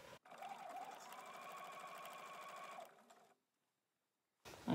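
Sewing machine running steadily while stitching a French seam on a sleeve, a fast even mechanical whirr lasting nearly three seconds, then slowing and stopping before a short gap and a brief bump.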